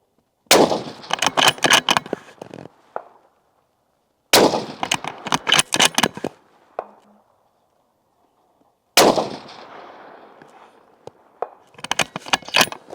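Three bursts of gunfire in quick succession from a handgun over a row of chronographs, each burst a rapid string of sharp cracks followed by brief quiet, loud and close, with no talking.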